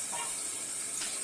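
Running water from a bathroom faucet used to wet the face before exfoliating, a steady close hiss that carries on without a break for the whole moment, with no talking.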